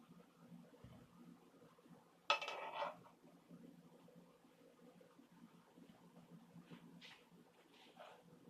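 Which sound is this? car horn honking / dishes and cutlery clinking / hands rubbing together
dishes and cutlery clinking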